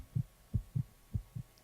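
A fast heartbeat thumps in five evenly spaced, low double beats, close and clear with no other sounds.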